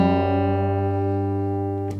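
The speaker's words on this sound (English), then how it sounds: "compare it to the 3rd string, which is G. Okay, until you hear them align" Two low guitar strings ring together steadily, one tuned against the G string, with a faint beating as they are tuned toward each other for an alternate open tuning; a soft pluck comes near the end.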